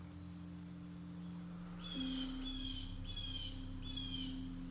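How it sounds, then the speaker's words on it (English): A bird at a crystal mine in Herkimer County gives a few short, repeated chirping calls over a steady low hum, moderately faint and apparently some distance away, with no one speaking. "What is that bird talking about?"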